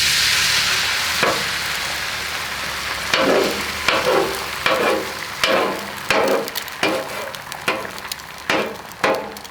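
Eggs fry on a 36-inch Sam's Club flat-top griddle, a steady close sizzle with repeated sharp scraping and tapping hits from a spatula, about one every second, and no talking.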